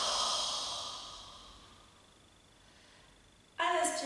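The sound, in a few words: exhaling with throat friction, Pilates breathing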